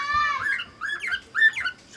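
A small wild bird visiting to feed gives a few close, clear squawking and chirping calls in short bursts, loud against an otherwise quiet background.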